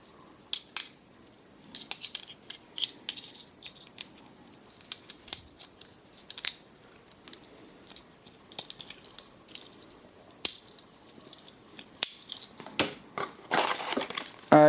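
Snipping, crinkling and rustling while a Cybercitycircuits electronics subscription box is cut open with a knife and unpacked, irregular sharp cuts and crisp packaging rustle close by, busier toward the end.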